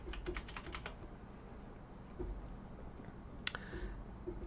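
Quick bursts of computer keyboard typing as a list price is entered into a real estate property listing form, clustered keystrokes early on, then a short pause and a few more taps, close and moderately quiet.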